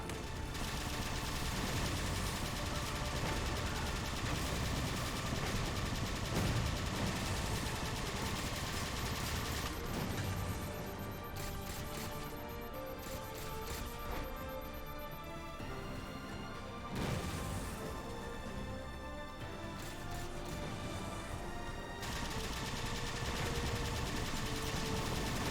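Sustained gunfire in the Halo 4 video game, dense and continuous bursts of shots layered with game effects and music, steady in loudness for the whole stretch with brief shifts in texture.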